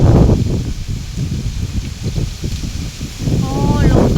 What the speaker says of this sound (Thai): โอ้ลมพัดปิว